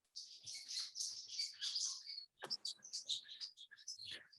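A chorus of small birds chirping and tweeting outdoors, dense overlapping high calls in two bursts with a short pause between, fairly near and clear with no speech over them.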